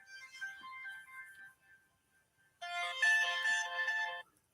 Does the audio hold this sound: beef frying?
no